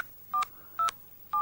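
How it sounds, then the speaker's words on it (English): A mobile phone keypad gives three short, evenly spaced dialing tones as a number is entered, each a clean electronic beep separated by brief quiet. "enter the number you want to call into the keypad"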